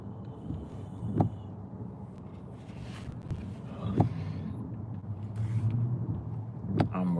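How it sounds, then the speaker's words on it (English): Car traffic on a commute to work, heard from inside a vehicle as a steady low road rumble with a few brief louder passes. "Look at this traffic."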